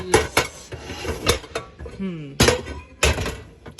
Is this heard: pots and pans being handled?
yes